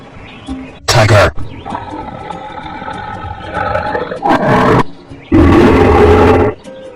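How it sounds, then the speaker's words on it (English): A cartoon tiger roaring in several loud, rough bursts between quieter stretches, close and forceful, with a voice speaking between the roars. "Tiger."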